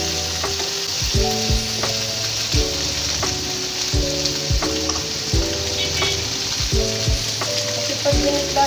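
Vegetables frying in a small pan, a steady sizzle broken by repeated utensil scrapes and clanks as they are stirred, close and fairly loud with no talking.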